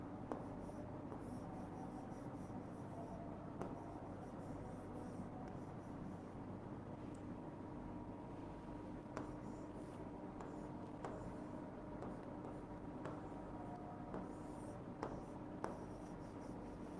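Hand writing during a math lesson, a continuous faint scratch and rub of pen or chalk over steady background hiss, with occasional small taps, no talk, lasting throughout.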